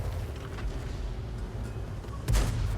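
Tank guns fire in World of Tanks, a low continuous battle rumble with distant booms and one sharp loud cannon blast near the end.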